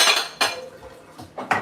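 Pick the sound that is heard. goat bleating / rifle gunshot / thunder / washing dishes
washing dishes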